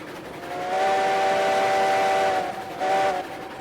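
A steam locomotive whistle in the video game Railroads Online gives two loud blasts: a long, steady multi-tone blast followed by a shorter one, over a constant rumbling background.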